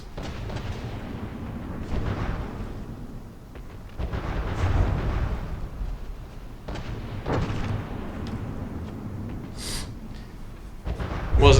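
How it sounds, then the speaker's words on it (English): Missile explosions in a block-building video game destroy blocks, as a series of deep booming blasts and rumbling bursts recur every couple of seconds, fairly loud, with a sharper hit near the end. "those missiles sure do remove a lot of blocks"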